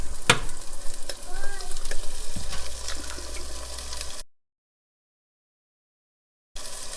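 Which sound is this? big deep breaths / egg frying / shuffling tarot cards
egg frying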